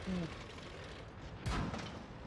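Gunfire from a crossfire in a tank video game: sharp booming shots, one near the start and a louder one midway, over a steady engine drone and faint background chatter.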